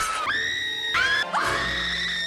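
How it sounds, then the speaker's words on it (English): Willie Scott from Indiana Jones and the Temple of Doom lets out loud, sustained high-pitched screams in three long bursts, each rising sharply then held, with no talking. "all her screaming"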